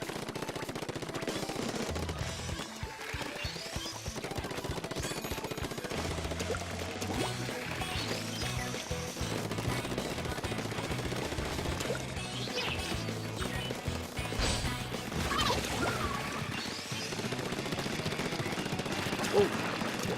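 Rapid splattering bursts of ink weapons firing in the video game Splatoon, liquid-sounding sprays repeating over game music, with players talking excitedly throughout.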